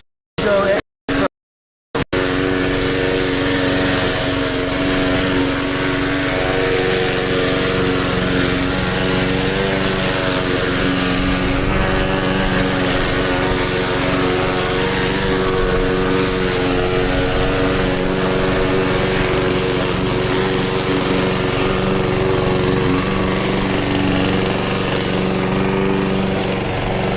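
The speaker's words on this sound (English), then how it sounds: "The mowing is a little bit tough now because the grass is a little wet." A lawn mower cuts wet grass, its engine droning steadily and loudly close by after a few short bursts, laboring under the load, with speech faintly underneath.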